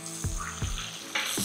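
Egg and beetroot stir-fry sizzling loudly in a pan, with several sharp scraping stirs at a steady rhythm over a continuous close, bright fry hiss.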